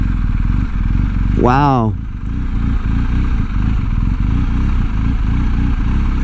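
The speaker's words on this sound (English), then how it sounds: "Now, I've never ridden this bike before, and I'm doing 360s." A BMW R18 motorcycle idles and putters at low speed through slow tight turns, a steady low engine rumble running throughout while a person exclaims briefly near the start.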